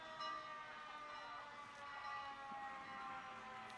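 Folsom Fire Department fire truck siren during a hometown parade, a faint steady wailing tone heard from a distance over crowd noise.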